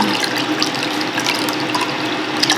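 Water steadily poured into a container holding tea and a SCOBY, filling it to the top, a continuous close splashing gush with no talk.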